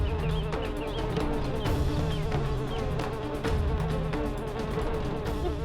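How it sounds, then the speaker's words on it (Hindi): A very large fly buzzes steadily and close, its drone continuing unbroken through the whole stretch with small wavering shifts in pitch. "इतनी बड़ी मक्खी तो मैंने कभी नहीं देखी।"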